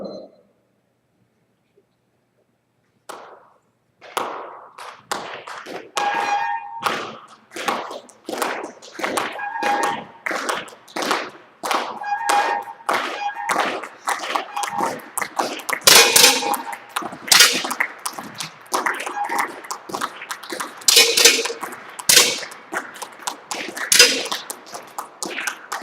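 Rapid series of sharp metallic clangs as air pistol pellets strike targets during a men's final at a winter airgun championship, shots firing one after another at close range, the pace quickening and overlapping from several firing points.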